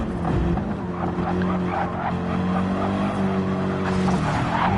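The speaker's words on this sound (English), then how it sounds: "Oh, hit the wall, which has spun him out" A car in a racing video game scrapes into the wall and spins out, a continuous engine drone with rough broadband scraping bursts over it, steady and fairly loud for the whole stretch.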